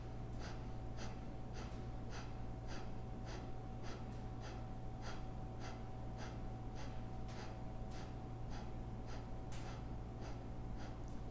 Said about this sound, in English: Half breath in. Again, Kapalabhati.